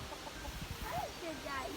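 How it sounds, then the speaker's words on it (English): Backyard hen clucking in short soft bursts, moderately close, with a voice talking faintly over the coop noise. "there's Mavis. She's a chicken."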